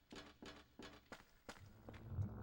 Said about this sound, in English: Well, I hear footsteps.